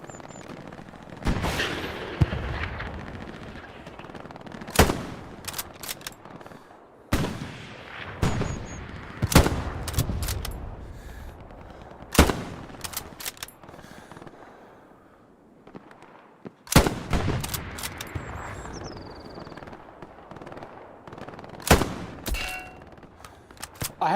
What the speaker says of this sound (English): What the fuck am I shooting at?